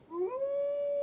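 A wolf howls in Assassin's Creed Valhalla, a single sustained, steady call that rises slightly at the start and then holds one clear pitch, loud and alone.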